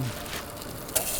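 Pieces of freshly caught groper frying in a pan on a remote island camp, giving a steady close sizzle throughout with one brief brighter crackle near the end.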